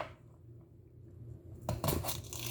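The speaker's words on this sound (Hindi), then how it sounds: "प्याज काट रहा हूँ।" A knife chops an onion finely on a board in a short, dense burst of quick cuts that starts after a stretch of quiet room hum, close and moderately loud.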